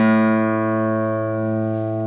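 A single sustained A note rings out on guitar, one steady tone held for about two seconds and slowly fading, close and fairly loud with no voices.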